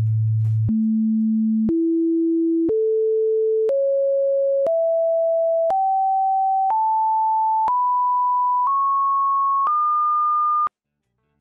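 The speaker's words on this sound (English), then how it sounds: "Let's take a listen at the harmonic skill of this A2 note." Pure tones for an A2 note and its harmonic series step upward one at a time, about once per second, eleven steady tones rising in pitch, clean and alone.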